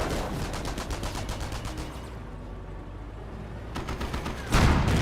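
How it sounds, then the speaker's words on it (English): Strafing run in Company of Heroes, a loud close burst of rapid aircraft gunfire that breaks off midway, then resumes with a heavy impact rumble at the end, no voices. "Oh, nice strafing run there."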